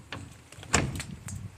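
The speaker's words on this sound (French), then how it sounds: "On a juste d'ouvrir une porte." A door creaks and clunks open inside an abandoned school, a few short knocks and rattles with one louder thud in the middle, close and brief.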